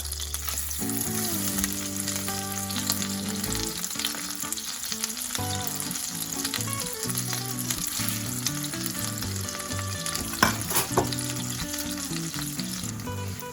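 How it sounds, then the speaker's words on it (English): Egg-dipped bread fries in a pan on a low flame for chocolate Nutella french toast, a steady loud sizzle running throughout with some stirring and clinks, backed by music and no talking. "Now we will add the bread that we have dipped in the egg."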